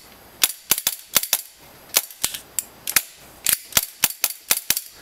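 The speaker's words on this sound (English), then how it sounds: "I'm going to do a test fire on this gun" A Tokyo Marui G18C airsoft pistol test-fired nearby: sharp, snappy cracks in quick irregular bursts and single shots, loud and close with no talking.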